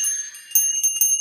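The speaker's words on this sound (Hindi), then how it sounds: "और असंख्य घंटियाँ, असंख्य मनोकामनाओं के पूरित होने की निशानी" Temple bells at Kalimath ring with sustained high metallic tones and a few soft repeated strikes that swell the shimmer, moderately loud and without voices.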